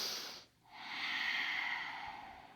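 Long audible inhale through the nose during a yoga exercise, a breathy airy hiss after a brief pause, close and fairly soft.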